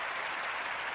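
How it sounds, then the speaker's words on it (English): Crowd applause, a brief dense wash of clapping at steady loudness, with no break or change across the short span. "Nice round of applause right there."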